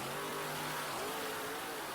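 A monster truck engine revs loudly in a stadium during a Monster Jam show, a dense, continuous roar with a rising and falling pitch that holds steady throughout without pause.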